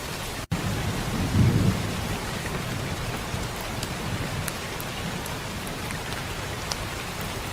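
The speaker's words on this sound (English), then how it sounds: "Yes, you hear rain." Steady rain falls outdoors with a constant dense patter, joined by a low thunder rumble early on, even and unbroken throughout.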